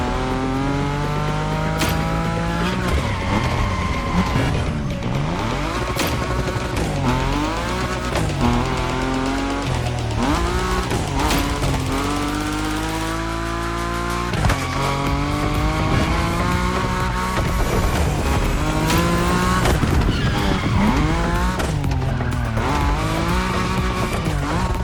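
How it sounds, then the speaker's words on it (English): Nismo car drifting at high speed in The Crew Motorfest racing game: a loud, sustained engine roar with shifting revs and tire squeal running steadily throughout, no voices. "Your Nismo is powerful enough to slide along on its own when you're at high speed"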